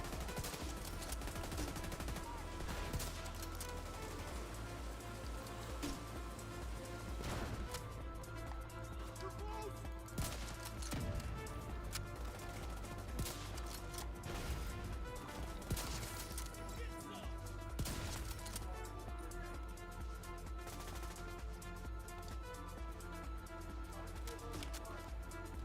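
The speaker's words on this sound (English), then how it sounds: "Where are you shooting at, dude?" Sustained firefights in the video game The Division 2, with rapid automatic bursts and scattered single shots that keep crackling over a musical score, along with occasional impacts and voices in the mix.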